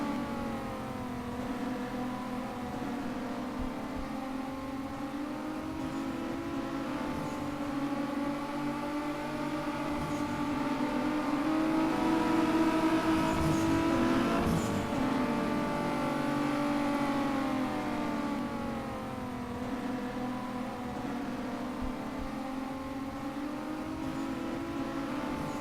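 Race cars roar around a track during the final race of the 2012 season, engines whining and shifting pitch as they rev and pass, swelling louder midway and then settling back.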